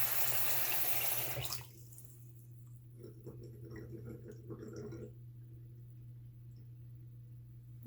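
A household sink drains slowly: a loud rush of water cuts off, leaving quiet gurgling and faint trickling for several seconds over a steady low hum.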